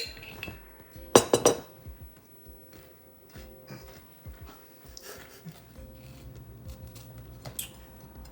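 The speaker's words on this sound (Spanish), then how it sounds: "Baja el cuchillo de mantequilla." Clinking of a butter knife against dishes in a kitchen, a sharp cluster of bright metallic clinks near the start followed by softer scattered taps and faint clatter.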